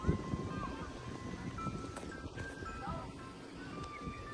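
Ice cream truck parked nearby at an outdoor picnic spot in America, its faint tinkling melody drifting over wind noise and outdoor ambience.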